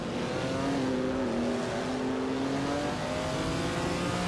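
Racing video game cars, including a Mercedes-Benz W154, hold a steady engine drone with gliding pitch, and one engine rises and falls as laps continue, with no talking.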